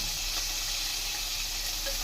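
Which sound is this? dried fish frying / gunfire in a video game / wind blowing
dried fish frying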